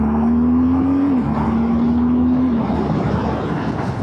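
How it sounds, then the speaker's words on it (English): A 2025 BMW R12 G/S motorcycle accelerates uphill, its engine note climbing steadily, dipping briefly at two quick-shifter upshifts, then pulling on, loud and close with wind rush. "So we'll give that quick shifter a bit of a going up the hill."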